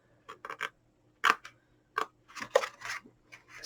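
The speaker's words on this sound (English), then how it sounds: "We need to cut down to that line that you scored on each of those" Scissors snipping paper along scored fold lines while assembling a small money gift bag from 6-inch square paper, a quick series of close, crisp cuts in short bursts with brief pauses between.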